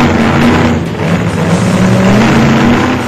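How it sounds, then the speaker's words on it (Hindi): Motorbikes rev on Delhi streets at night, a loud continuous engine roar with rising and falling pitch from several bikes, steady and close with no speech over it. "हजारों की संख्या में बाइकर्स दिल्ली की सड़कों पर उतरे।"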